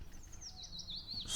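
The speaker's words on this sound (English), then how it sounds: "Hearing the birds and the wind in the trees makes me hopeful." Birds chirp and tweet in a game's outdoor scene with wind in the trees, a faint run of high, wavering calls over a low ambient rumble, growing slightly louder toward the end.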